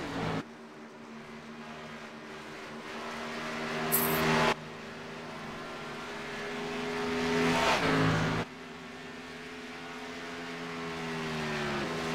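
Race car engines drone steadily at the Kansas track in a Grand National Series race, a sustained loud engine note shifting in pitch as cars pass, with a couple of abrupt swells and cuts.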